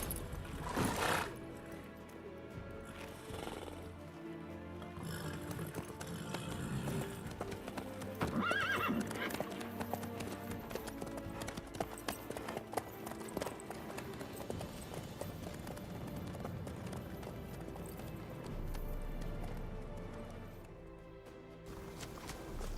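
Horse hooves clip-clopping in The Witcher 3: Wild Hunt, a steady rhythmic trot with a whinny early on and game ambience around it, continuing for over twenty seconds.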